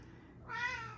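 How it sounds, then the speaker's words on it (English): A cat gives a single short meow, close and clear, after a brief quiet moment with no talking. "Oh my god, there's a kitty."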